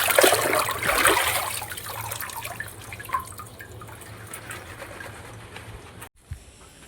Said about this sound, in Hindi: अब इन पत्तों को धो लेते हैं।